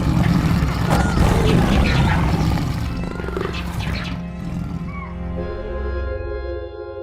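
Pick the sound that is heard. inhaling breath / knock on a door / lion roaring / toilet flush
lion roaring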